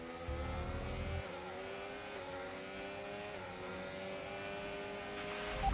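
A Ferrari Formula 1 car engine in the F1 25 game on a wet track, a sustained high-pitched whine with rising and falling harmonics, fairly faint and steady, with no talk.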